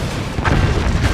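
A battery blowing up in the game Forts gives a loud, rumbling boom that swells partway through and holds as a dense, noisy roar.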